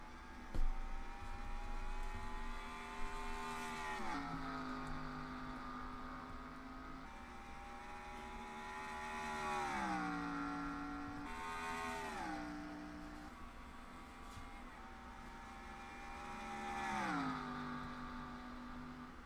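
Race cars rev and accelerate together off the green flag at Dover in a stock car racing video game, engine tones rising and shifting through gears in repeated sweeps, a steady loud roar with no talk.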